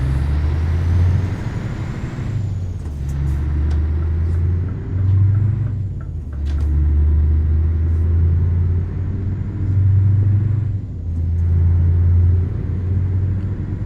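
A heavy truck drives in the Euro Truck Simulator game, its engine giving a loud, steady low rumble that swells and eases in repeated waves as the throttle changes, with no voices.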